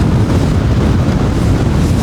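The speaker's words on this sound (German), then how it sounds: "Grenzwertig der Wind." Strong wind buffeting a microphone on a fishing boat, a loud, constant low roar and rumble that fills the whole moment with no voices.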